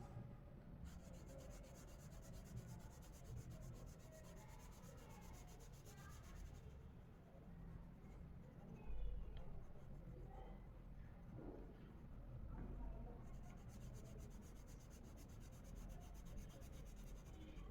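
Colored pencils rubbing steadily across paper, first red and then orange, in a continuous soft scratchy rasp of back-and-forth strokes, faint and close with no talking.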